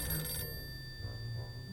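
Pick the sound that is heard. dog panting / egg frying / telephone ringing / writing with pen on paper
telephone ringing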